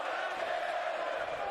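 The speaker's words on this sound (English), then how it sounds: "And the crowd is chanting, "Bray's gonna kill you."" Wrestling arena crowd chanting in unison at a championship title defense, a steady, dense roar of many voices filling the space without break.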